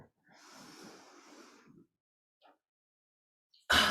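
A person doing cat-cow yoga stretches draws a long audible breath through the nose, followed by a brief faint exhale sound and a sharp loud breath at the end, all close and otherwise quiet.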